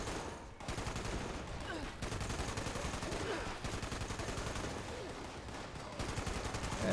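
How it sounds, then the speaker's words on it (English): Sustained gunfire in Fallout 76, rapid repeated shots in a dense, continuous volley lasting several seconds, loud and close. "And I'll just keep shooting you from here"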